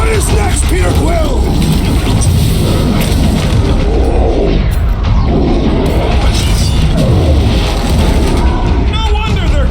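Bombs blowing up during combat in Marvel's Guardians of the Galaxy on PC, heavy booming blasts layered with clanking mechanical noise and crashes, loud and constant throughout the battle.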